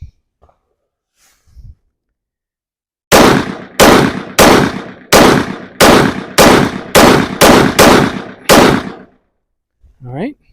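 A PSA Rock pistol fires about nine loud, sharp shots in a steady rhythm at an accuracy test on a range, each crack ringing briefly, with short faint sounds before and after.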